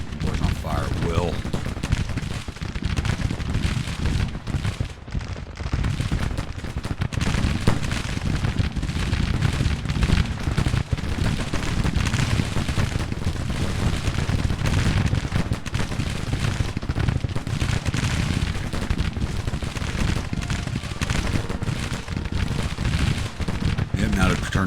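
Canister artillery and massed musket fire in the Civil War strategy game Grand Tactician, a dense, unbroken battlefield din of overlapping shots and booms with talk running over it throughout.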